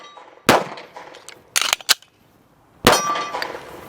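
A Staccato pistol fires sharp, ringing shots on a range: one crack, then a quick double pair, then another loud report, each with a metallic clang and short decay.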